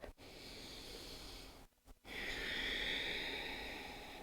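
A slow, audible breath during a gentle yoga forward fold, a long airy inhale-exhale drawn out close to the microphone, with a short quiet gap in the middle.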